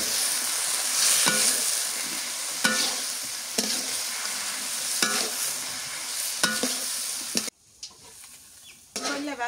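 Kakrol, bitter gourd, stir-fried in a pan, a steady close sizzle broken by rhythmic scraping strokes of a spatula roughly every second, before the frying sound drops away near the end.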